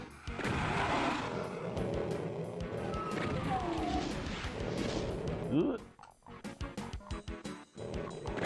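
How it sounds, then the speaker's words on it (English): A shotgun fires in the 1993 Doom game amid dense, noisy combat: repeated sharp blasts, crashes and monster growls, with a voice talking over the action. "I love a shotgun that pierces"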